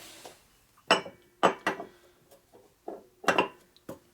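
A metal Buell cam cover is handled and set down on a workshop bench, giving a handful of separate, close clinks and knocks with short quiet gaps between them.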